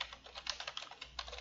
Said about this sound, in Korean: 선택하고 그냥 타자를 치세요